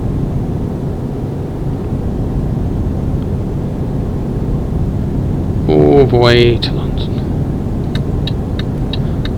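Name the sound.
truck driving on the road in Euro Truck Simulator 2 video game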